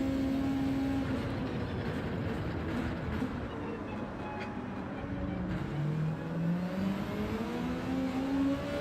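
A Volkswagen Beetle race car in Gran Turismo 7 gives a continuous, droning engine note that rises and falls with revs, fairly quiet and steady throughout.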